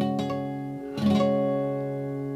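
Two strums of ringing bell-like guitar harmonics at the 12th fret in open tuning, the second fuller, each left to sustain and slowly fade.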